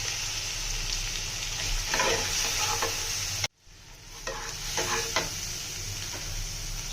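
Onion, ginger paste, garlic paste and turmeric frying in a pan while being stirred, giving a continuous close sizzle with scraping strokes that cut out briefly midway and then resume.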